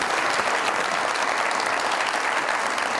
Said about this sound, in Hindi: बहुत सारी तालियां इनके